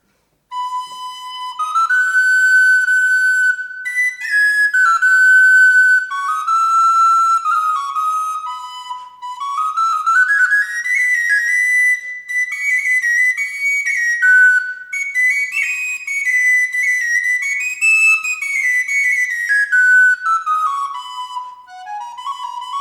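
Bright, high recorder in F plays a short solo improvisation, a continuous wandering melody with sliding, ornamented phrases and brief pauses, close and fairly loud with no talk.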